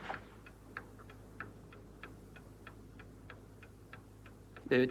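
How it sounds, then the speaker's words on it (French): Steady, faint tick-tock of a clock ticking evenly at close range in a quiet room, ending with a brief louder rustle. "il me semble entendre quelque chose, un tic-tac"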